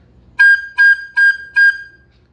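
Four short, evenly spaced high G notes played on a flute, each clear and bright, close and loud, with silence between them and no talking.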